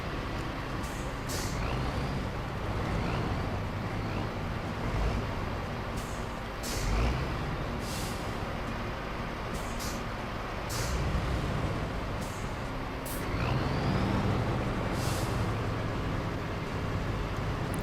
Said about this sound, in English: I'm just spinning on the icy road now, mate